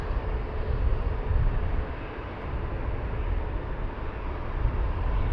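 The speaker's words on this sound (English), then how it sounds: "And then we have another Wizzair that just started pushback" A Wizz Air airliner starting pushback at Luton Airport, heard as a broad, steady engine rumble from a distance that swells slightly and stays constant throughout.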